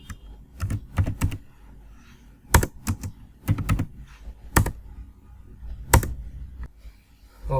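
Keys clack on a computer keyboard in short bursts and separate strokes, close and fairly loud, while HTML code is typed for a web design lesson, with no talking.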